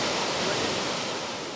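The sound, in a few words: massive torrent of Greenland meltwater rushing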